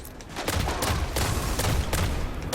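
Rapid weapon fire in the game Destiny, a dense run of loud, close gunshots from a single-tapped gun, with sharp bursts following one another steadily and no voice.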